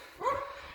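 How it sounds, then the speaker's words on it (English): Wrigley the dog lets out a single short bark at a moderate distance in an outdoor yard, a brief burst standing alone against quiet background noise. "you can hear the dog probably"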